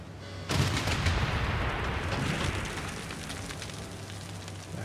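Artillery fire in Civilization VI opens with a sudden loud blast, then a long rumbling, crackling decay that slowly fades over several seconds.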